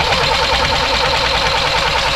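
Boat diesel engine cranked by key without glow-plug preheat, failing to start: a steady, loud, continuous whirring churn throughout, with no catch or rise into running.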